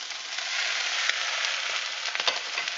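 Sauce cooking in a frying pan with a crispy-skinned veggie burger, a dense steady sizzle close up with a few small pops and stirring clicks.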